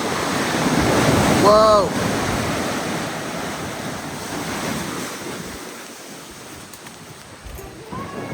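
Big ocean waves break and roar onto the shore at Half Moon Bay, California, loud and close with heavy wind buffeting the microphone. A voice lets out a brief exclamation as the surf surges, then the wash slowly fades.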